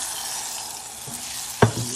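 Amchur powder gets stirred into a mustard oil mixture in a pan, a soft steady sizzle with a single brief clink of the spoon near the end, close and fairly quiet.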